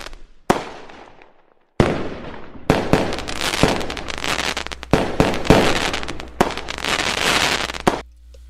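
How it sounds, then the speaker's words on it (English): Canada Day fireworks over Edmonton at night: a loud opening bang, then dense runs of booming bursts and crackling pops that overlap almost continuously, broken by a few sharp louder reports. "in Edmonton, we're having fireworks."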